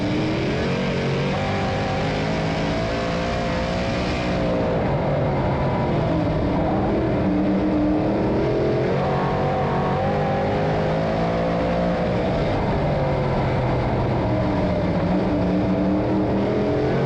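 A pack of short-track race cars roar off together at the start of a championship night race in Mike Mahaney's division, a dense, loud wall of revving engines that swells and holds steadily with no talk over it.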